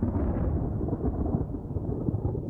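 Thunder from a supercell storm, a deep, continuous rolling rumble with rain-like hiss, heavy and sustained throughout.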